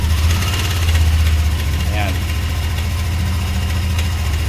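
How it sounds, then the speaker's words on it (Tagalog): A Yamaha Nmax V2 scooter engine starts and settles into a steady, close idle, its low drone running throughout while someone speaks briefly over it. "Papaandar natin mismo yung motor."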